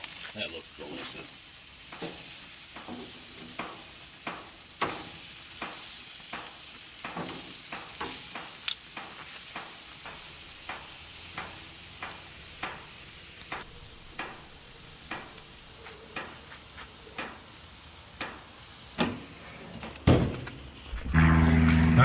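Steaks sizzle on a gas grill with a smoke pellet tube, a steady close hiss broken by regular sharp scraping and tapping strokes, with louder handling clatter at the end.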